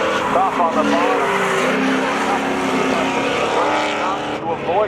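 Drag-style race cars, a 1998 Chevrolet Camaro and a Pontiac Firebird, roar loudly side by side at a spectator thrill-show finale, engines revving and shifting while an announcer calls the action over them.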